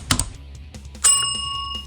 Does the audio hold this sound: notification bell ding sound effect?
yes